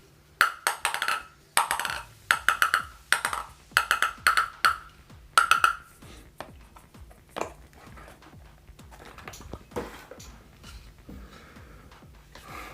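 Knuckle taps on a bare Spinlab ALC Airlight Carbon table tennis blade with two carbon and five wood plies, sharp ringing pings grouped in quick bursts of two to four, close up, fading into quieter handling noises.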